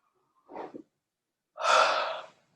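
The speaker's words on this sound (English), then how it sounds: "Breath in through the mouth." A person breathing in through the mouth, a short quiet intake followed by a longer, louder breathy inhale, alone against silence.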